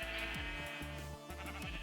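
Sheep bleat repeatedly in Minecraft, a series of nasal, wavering calls in steady succession over a constant game background.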